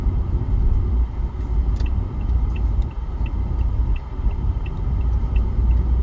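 Low, steady engine and road rumble inside a moving car, continuous and fairly loud throughout, with faint ticking near the middle and no voices.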